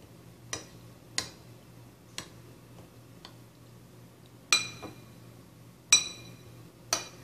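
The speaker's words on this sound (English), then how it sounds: "You have to mix it evenly so that there are no unmixed particles." Chocolate cake batter mixed in a glass bowl, with about seven sharp, irregular clinks and ticks of the utensil against the glass over a quiet background, the later ones louder; no talking.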